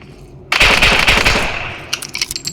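A loud, close burst of rapid automatic gunfire in the Android video game Same Room Same Day, lasting about a second and then decaying into a few scattered shots.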